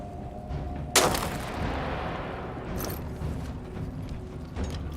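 Gunfire in the war survival game This War of Mine, with one sharp loud shot followed by a rumbling decay and fainter, more distant reports over a steady low ambient background.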